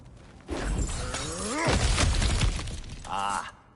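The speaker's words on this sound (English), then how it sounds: "back to smashing through things for fun and profit" Cracked ground smashed apart in God of War Ragnarök, a burst of shattering and breaking rubble with a low crunching impact, followed by a brief tonal chime near the end.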